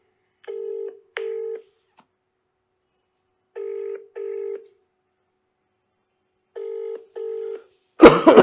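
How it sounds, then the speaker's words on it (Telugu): A telephone dials out to place a call, with three pairs of short tonal beeps evenly spaced across several seconds against silence, ending in an abrupt burst of noise as the line connects. "ఒక్కసారి జడ్సన్ కాల్ చేద్దాం."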